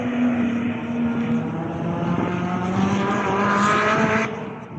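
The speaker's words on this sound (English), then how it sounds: "Those Elises sound really good too" Lotus Elise and Exige cars lapping the Cadwell Park circuit at a track day, engines droning at a distance with pitch rising and shifting as they pass, steady and continuous with no talk.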